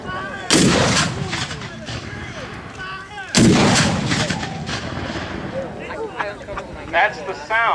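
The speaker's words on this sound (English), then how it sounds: "That's the sound of the artillery during the American Civil War." Two loud Civil War artillery cannon blasts at a Gettysburg reenactment, each a sharp boom with a long rumbling tail, the second about three seconds after the first, with shouted commands and crowd voices around them.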